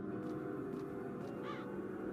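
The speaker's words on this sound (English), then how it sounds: "Look at all those birds." Crows cawing amid dense swarms of birds in the adventure game The Dark Eye: Chains of Satinav, a few scattered caws over a steady, busy ambient background.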